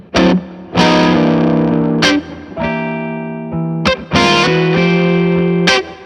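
Distorted electric guitar plays loud, broken rhythm chords in short bursts separated by brief gaps, in a blues-rock style with effects coloring the tone, no voices over it.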